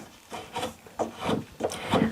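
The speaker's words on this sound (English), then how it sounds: "Beavercraft hook knife. And we can come in here and we can pare away the sides a little bit and smooth it up." A Beavercraft hook knife pares the sides of a carved wooden shrink pot in short, rhythmic scraping strokes, four rasping cuts close to the ear and otherwise quiet.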